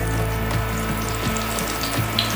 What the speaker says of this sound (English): You get that sear. Hear it?